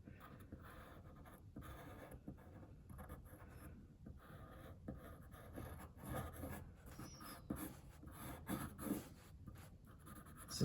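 A pencil moves continuously over paper in loose, squiggly drawing strokes, a soft steady scratching and rubbing that carries on at close range with no talking.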